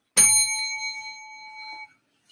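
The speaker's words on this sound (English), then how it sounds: "And I threw a bell in there." A single bright bell ding is struck once and left to ring out clean and sustained for under two seconds, loud and close, as an effect dropped into a live stream.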